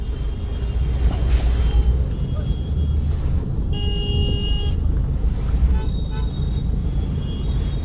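Busy city road traffic in Lucknow, a steady roar of cars and engines with a car horn honking clearly near the middle and fainter toots elsewhere, continuous and fairly loud throughout.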